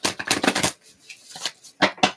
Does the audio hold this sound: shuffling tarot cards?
yes